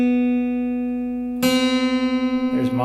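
A steady B reference tone for the second guitar string is joined midway by an out-of-tune plucked B string, and the two clash in a pulsing, wavering beat; a brief voice sounds near the end.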